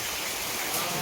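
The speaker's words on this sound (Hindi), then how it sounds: "बारिश हो के चालू हो गई" Steady rain coming down outdoors in the evening, a broad even hiss filling the short stretch without a break, with no talk over it.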